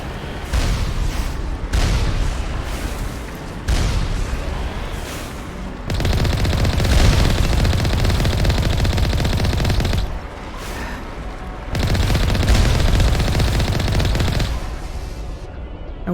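Turret gunfire in Mass Effect Legendary Edition: loud, sustained bursts of rapid automatic shots that come in long volleys, separated by brief lulls, with booming impacts mixed in.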